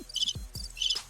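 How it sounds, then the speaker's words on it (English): A crickets sound effect: steady high chirping trills near and moderately loud, with two low thuds breaking in partway through. "the crickets. There you go."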